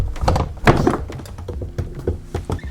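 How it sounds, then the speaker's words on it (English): A door in an old village house opens onto a terrace with a few dull thunks and knocks, close and fairly loud, with rattling handling sounds between them and no talking. "this is the door and we can go to the terrace"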